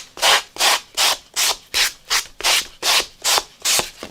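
Paper edge is sanded in a steady series of about ten rhythmic scratchy strokes, each a close, harsh rasp with short gaps between, and no voices.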